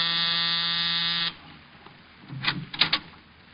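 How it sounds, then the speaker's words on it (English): An apartment door buzzer in an old radio detective drama sounds as one loud, steady electric buzz lasting over a second, followed by faint footsteps and knocking-like thuds. "I was punching the buzzer to Saxon's apartment."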